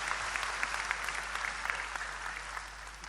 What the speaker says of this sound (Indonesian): Tepuk tangan untuk beliau, enggak apa-apa.